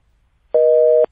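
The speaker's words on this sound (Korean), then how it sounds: "네, 전화가 끊어졌습니다." A telephone busy signal cuts in abruptly after a radio call line drops, one steady, loud electronic tone holding for about half a second before stopping, with no voices over it.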